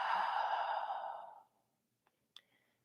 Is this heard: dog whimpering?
no